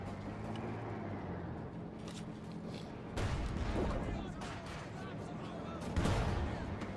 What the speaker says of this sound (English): AT gun for cruzz, managing to get a good direct hit there on the Stuggy